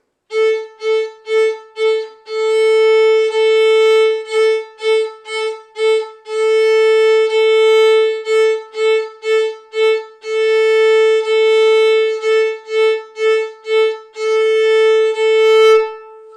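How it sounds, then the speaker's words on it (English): A violin repeats one pitch in short, crisp notes plucked with the left hand while the bow rests on the A string, broken up by longer held tones, close and clear with nothing else playing. "You hear those nice little notes using only my hand, leaving the bow on the string."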